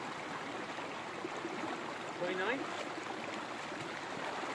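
Cold Creek flows in a steady, broadband rush of running water close by, with a short chirp and a spoken word passing over the continuous stream.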